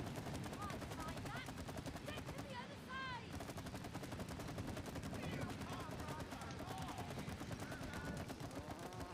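Rapid gunfire rattles in a dense, continuous stream during It Takes Two gameplay, fast repeated shots under game effects and faint chirpy tones.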